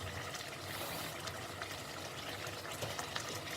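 Water pours steadily into a cooking pot in a home kitchen for macaroni with tuna in tomato sauce, a continuous, close, even rushing trickle without speech.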